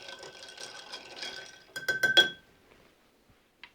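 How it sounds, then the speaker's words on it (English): A bar spoon stirs a cold apple cocktail over ice, scraping softly around the glass before a few bright, ringing clinks against the glass edge, then near silence with a faint final tap. "the back of the spoon against the outside edge of the glass as you go around"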